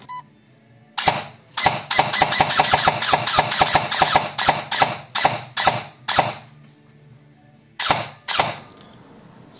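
Rebuilt LCT engine sputtering to life, firing in a rapid string of sharp, loud pops for several seconds, then cutting out and catching again with two final bursts, close-up and without talk.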